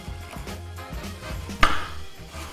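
Knife chopping peeled ginger on a cutting board, a series of soft, close taps with one sharper knock near the middle, no talking.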